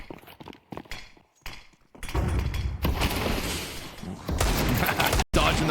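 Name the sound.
rifle shots in the video game Counter-Strike on Mirage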